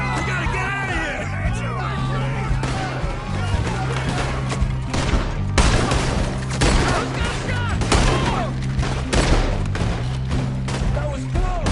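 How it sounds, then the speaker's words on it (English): Rapid gunfire from Red Dead Redemption 2 in a chaotic shootout, dense bursts of shots and thuds throughout, with yelling voices and music mixed loudly over the fusillade. "There he is! Shoot that man!"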